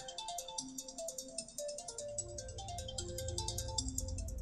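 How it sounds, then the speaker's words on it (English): A mobile phone ringtone plays as a bouncy, repeating electronic melody with steady high-pitched pulses, joined partway through by a low droning bass layer, fairly quiet and with no talking over it. "My phone is going off."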